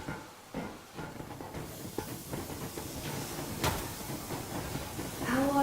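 Steam train in the Metro Exodus video game rolling at full steam, a steady broadband rumble and hiss with a sharp burst midway and a rising whistle-like tone near the end; no speech.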